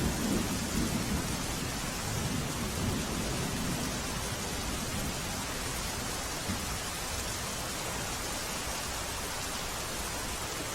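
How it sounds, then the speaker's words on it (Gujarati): Heavy rain falls in Banaskantha, north Gujarat, as an even, hissing wash of sound, fairly faint and unbroken, with no voices. "ઉત્તર ગુજરાતમાં પણ સાંભેલાધાર વરસાદ પડી રહ્યો છે"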